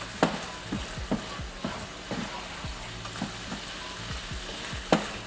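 Food fries in butter in a pan, worked with a wooden spatula. A steady, busy sizzle runs throughout, broken by regular scraping taps of the spatula.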